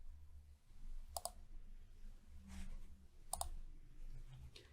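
Two sharp clicks from a computer mouse, about two seconds apart, come as buttons are pressed in a software demo. They are faint and close over a low, quiet background hum.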